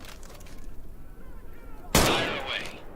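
A single loud, sharp M1 Garand rifle shot rings out in the VR shooter Medal of Honor, a sudden crack with a lingering decaying tail and a metallic ring.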